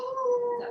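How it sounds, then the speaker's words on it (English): Dogs outside give a sustained, wavering howl-like cry lasting under a second, moderately loud and steady with no talking over it. "Oh, the dogs are outside barking."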